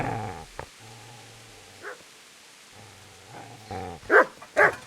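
A dog in the medieval game Kingdom Come: Deliverance gives a few short, low barks and growls spread across the clip, the last two louder and closer, over quiet background ambience.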